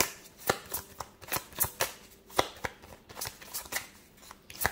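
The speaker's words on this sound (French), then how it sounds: "c'est parti, on va tirer une carte" Tarot cards being shuffled and drawn by hand, giving a quick, uneven run of crisp riffling snaps and soft slides, close and steady, with no talking.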